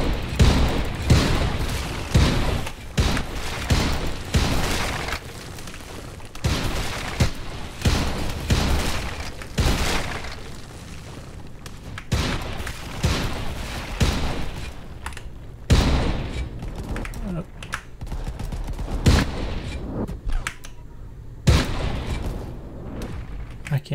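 Tank cannon shots boom repeatedly in the video game Tank Game, loud broadband blasts recurring every second or two across the stretch, close and punchy.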